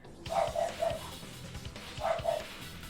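Dogs bark in two quick clusters of sharp yaps, a few barks each, slightly distant over a low room hum.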